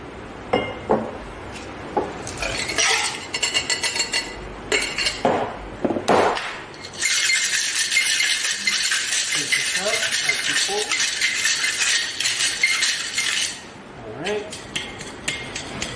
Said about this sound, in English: Put some ice in this tumbler here.